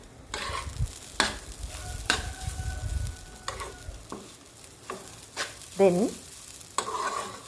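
Beetroot thoran being stirred in a pan with salt, a spoon scraping and knocking at irregular intervals over a soft background sizzle, with one brief spoken word near the start.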